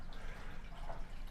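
Zeny portable clothes washer draining water in a cabin, a faint steady trickling and dribbling flow with a soft drip, low and continuous with no voices.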